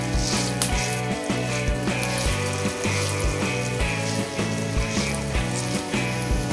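Adai batter patty fries on a pan in ghee and oil, a loud, close, continuous crackling sizzle with popping bursts and faint background clatter, no one talking.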